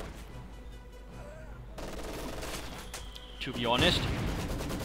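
Maxim machine gun fire in Company of Heroes 2 battle, bursts of rapid shots mixed with other combat noise and explosions, partly under a commentator's talk.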